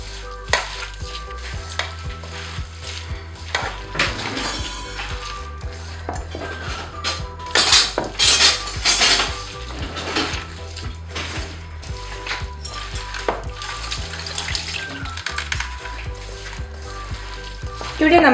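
Tomato and green chilli curry masala being stirred in a pan, with steady sizzling and frying under repeated scraping and clinking of a utensil against the metal, a louder clattering burst midway.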